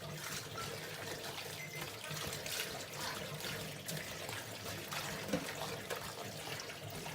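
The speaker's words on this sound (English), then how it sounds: "So I'm just pouring water into the strainer, and I'm just rubbing them. I'm just washing them from the salt." Tap water pours steadily into a strainer as salted eggplant is rinsed and rubbed, a continuous soft splashing rush with small irregular bursts, close and fairly quiet, no talking.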